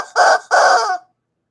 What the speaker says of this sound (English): Here's Mr. Chicken